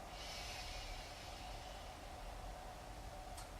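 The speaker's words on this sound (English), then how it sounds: "a loud, strong breath out" A loud, strong exhale during a core breathing exercise on a mat: a long, steady rush of breath sustained for several seconds, close and airy, with no speech.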